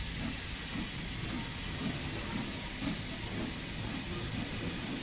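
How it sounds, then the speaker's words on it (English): Steam locomotive chuffing from a Stanier Jubilee in Train Sim World 3, heard as a steady hiss of steam with soft rhythmic low beats running evenly throughout, fairly loud and without talk. "I like the chuffing."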